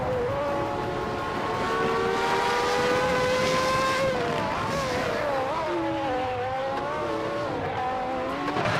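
Race cars, including a Ferrari 412 T2 and a Williams FW17, roar through a racing video game, with a continuous high engine whine rising and shifting pitch as cars pass.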